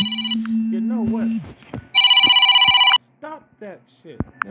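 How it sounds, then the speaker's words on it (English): A phone alarm rings loudly in two bursts of steady electronic tone, the first long and the second shorter, with other brief chirps and sounds between them. "the old phone got the same alarm"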